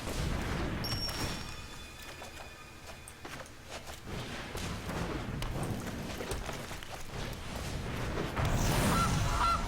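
Goose honks amid a busy game soundtrack of loud, dense crackling and booming effects in a Magic: The Gathering digital match, with the honking calls blending into the layered noise throughout.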